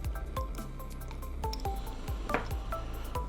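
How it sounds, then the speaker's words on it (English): Blue Benedict's reagent poured into test tubes in a lab, giving soft wet squishing and dripping sounds with a few glassy clinks, close and fairly quiet with no talking. "add some of this blue solution into both test tubes"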